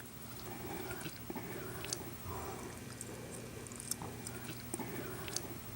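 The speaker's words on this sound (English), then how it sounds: "Dude, she chews gum so loud." A woman chews gum loudly, a steady run of wet smacking and squishy mouth clicks repeating close to the microphone over several seconds, with faint background hum.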